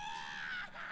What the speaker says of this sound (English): I'm sure you guys can probably hear this goblin screaming at the top of his voice